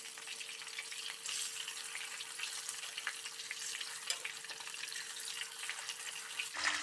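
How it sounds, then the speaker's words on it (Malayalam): Quail pieces fry in hot oil with curry leaves over a medium flame, giving a steady, dense sizzle that crackles evenly throughout with no voices. "ഇനി നമുക്ക് അരമണിക്കൂർ റെസ്റ്റ് ചെയ്യാൻ വെച്ച കാട ഇട്ടെടുക്കാം"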